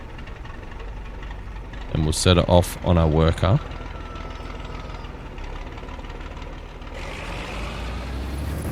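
Tractor engine in Farming Simulator 25 hums steadily beneath a voice, with a brief louder burst in the middle and a slight rise in tone near the end as another machine starts.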